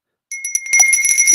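A livestream alert bell rings with bright, close, bicycle-bell-like dings, a few quick strikes that quickly blend into a ringing flourish, heard without talking.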